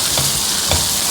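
Ginger garlic paste frying in a pan for a chilli idli dish, a steady loud hiss of sizzling oil with a couple of soft stirring scrapes, close with no talk.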